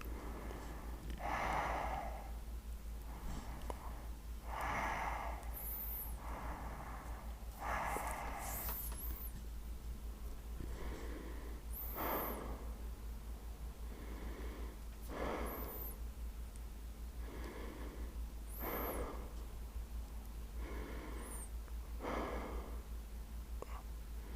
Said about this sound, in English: I really wish I could turn off that breathing.